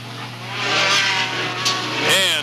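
Mini stock race cars pulling away together at a green flag start on a rutted dirt track in 1995, a loud steady engine roar that swells and holds with a rising whine near the end, and a commentator's voice briefly under it.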